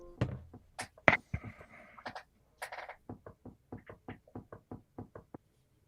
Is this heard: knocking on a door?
yes